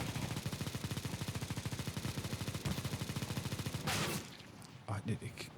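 Rapid bursts of automatic gunfire ring out in Counter-Strike: Global Offensive, a loud rattling stream of shots lasting several seconds, then a brief blast and a few scattered shots before a quieter pause.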